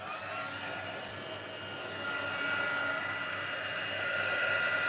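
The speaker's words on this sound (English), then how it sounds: "My heat tool's not plugged in" A heat embossing tool used for card making blows hot air in a steady, loud, whirring rush that rises slightly in level and runs without a pause.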